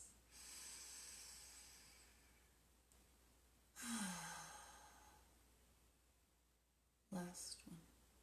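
Slow, deep breaths during a yoga practice, with a long airy exhale from about 0:00 to 3:00, another sighing breath near 4:00 and a shorter, sharper one around 7:00, all close and soft, without talk.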